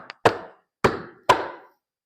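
Three sharp wooden taps, evenly spaced, as dowels are driven down into a wooden toy box during assembly, each knock close and ringing briefly before fading; a faint small tick comes just before the first.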